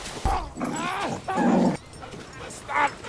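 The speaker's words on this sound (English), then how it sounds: "Crypto, the super dog" Krypto the superdog from Superman (2025) gives short yips and whimpering barks in bursts, a few close calls with a faint voice in the background.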